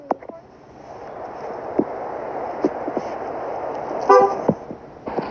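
A BMW X3 car horn gives a short, bright honk near the end, rising above a steady background rumble with a few faint knocks earlier.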